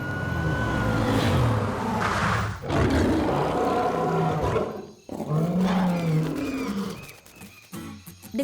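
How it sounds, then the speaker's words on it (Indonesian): A cartoon chorus of lions, tigers, cheetahs and jaguars roaring, several loud overlapping roars in swelling bursts with brief pauses between them, close and forceful. "Dengar itu, semua singa, harimau, cita, dan jaguar memberi hormat kepadamu."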